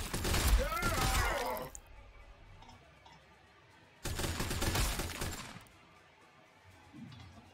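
Two loud bursts of rapid gunfire ring out in the Warhammer 40,000: Sanctus Reach video game, each lasting a couple of seconds with a quiet gap between, and a faint voice heard near the end.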